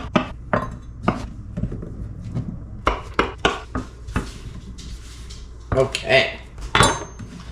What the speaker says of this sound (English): let's go ahead, get our mushrooms chopped up